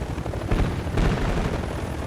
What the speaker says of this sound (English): Seeker drone deployed.